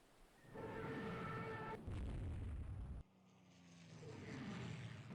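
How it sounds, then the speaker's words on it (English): Naval battle in the Rule the Waves 3 game with fighters glide-bombing ships: continuous rumbling explosions and gunfire blasts, loud and dense, a heavy roar that cuts off abruptly and gives way to a lower sustained din of distant firing, with no talking. "We are being glide bombed by fighters."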